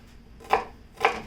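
Two crisp knife cuts land on a cutting board about half a second apart while the rough top skin is trimmed off food for an omelette, close and fairly loud with quiet between.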